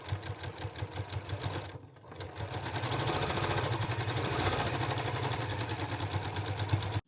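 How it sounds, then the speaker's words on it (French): A sewing machine stitches fabric for a lined pouch with a gingham interior in a sewing workshop, its rapid mechanical whirr running steadily and fairly loud, pausing briefly near the two-second mark before resuming continuously. "on va continuer de coudre"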